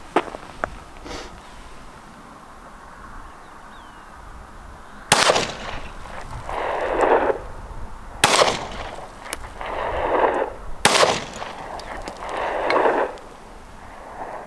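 Three sharp, loud gunshots from a newly bought gun fired at a target on an outdoor range, spaced a few seconds apart, each leaving a long rolling echo, after a quiet stretch with faint distant pops.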